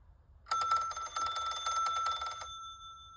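Cortelco Classic telephone bell ringing through an ATA, one loud, close burst of rapid metallic ringing that lasts about two seconds, then rings out and fades.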